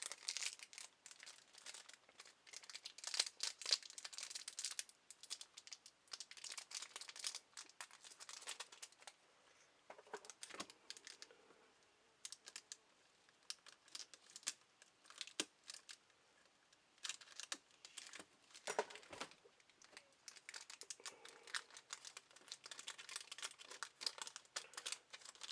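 Crinkling and tearing of a dented Bakugan Battle Planet Resurgence booster pack's foil wrapper, opened at its notch, with close, continuous crackling and crumpling and brief pauses, no talking.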